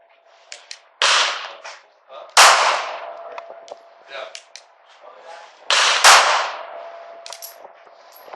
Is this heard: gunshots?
yes